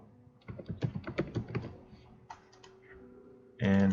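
Computer keys are typed in a quick burst of close, crisp clicks as a folder name is entered, then a few scattered taps, then a short louder clatter at the end.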